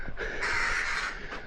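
A handheld crow call imitates a crow, giving one loud, close, drawn-out caw with a raspy, nasal tone at a castle site.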